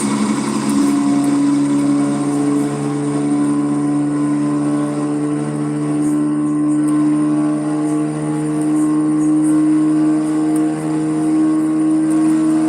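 A Peterbilt 362 50-ton heavy-duty wrecker truck in American Truck Simulator, towing a bus, drones at a steady low idle, a loud constant engine hum with no talk over it.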